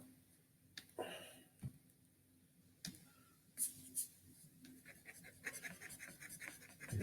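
Stylus or pen writing on a tablet, quiet scratchy strokes and light taps in irregular bursts, close and faint against a low hum, growing busier toward the end.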